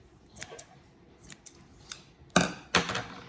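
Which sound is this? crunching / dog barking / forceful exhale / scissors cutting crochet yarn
scissors cutting crochet yarn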